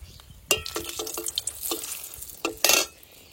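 Dried red chillies hitting hot oil in a pan, with a stirring scrape, scattered crackles and a couple of louder sizzling bursts, close and moderately quiet.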